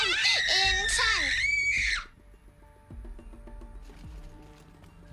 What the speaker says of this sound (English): Blood-curdling scream.